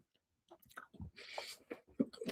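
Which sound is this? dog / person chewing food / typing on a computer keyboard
person chewing food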